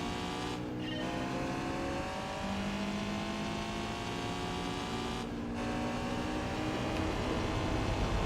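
A stock Japanese race car in Gran Turismo 4 drives with a continuous, loud engine drone, revs rising and dropping through gear shifts over several seconds, with no talking.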